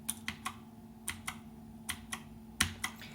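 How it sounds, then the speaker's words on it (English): Clicky Cherry MX switches on a Gamdias Hermes P1 metal-frame mechanical gaming keyboard, pressed in about ten crisp, separate clacks with uneven gaps over a faint steady hum, close and fairly quiet. "what is distinctive about these type of key switches is you have two levels of feedback. The first is an audible click."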